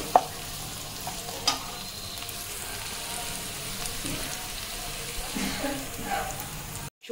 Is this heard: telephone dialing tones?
no